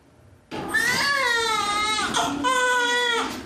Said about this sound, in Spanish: El llanto prolongado que se escucha en una sala de parto